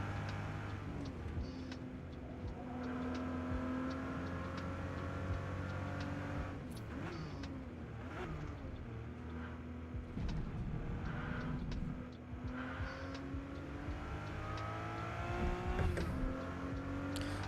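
Shelby King Cobra race car in a racing game at Watkins Glen, its rear engine droning and revving steadily throughout with shifting pitch, loud and continuous, no talk.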